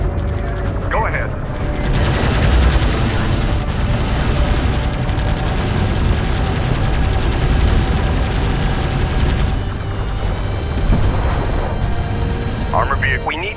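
Sustained weapons fire in the strategy game Homeworld: Deserts of Kharak, dense rattling bursts and booms layered into a continuous loud barrage with mechanical whirs, with brief radio-style voice lines over it.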